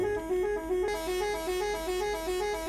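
A Neoplan Cityliner coach's horn in Euro Truck Simulator 2 sounds as a loud, steady tonal blare that is pulsed in a repeating rhythm of short blasts, with no talking.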